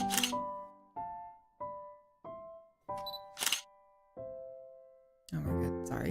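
Video game camera on a tripod at a slow shutter speed, a series of sharp clicks with long ringing tones between them, each repeating about every half second to a second, close and distinct with no speech.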